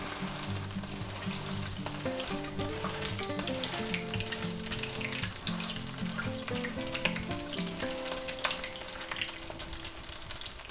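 A tuna patty fries in a pan with a continuous soft sizzle, partly buried under a melodic background music track.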